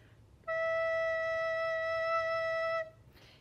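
A recorder sounds one steady, clean E note, played softly with little air and held for about two seconds, alone in a quiet room.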